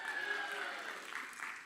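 A church congregation cheers and claps together in a short, steady burst of crowd noise that fades slightly toward the end.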